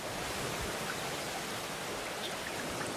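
Water drained from underground aquifers runs down the slopes of the Waterberg mountains in Africa, a steady, dense rushing like a stream or small waterfall, continuous and fairly close, with no voices.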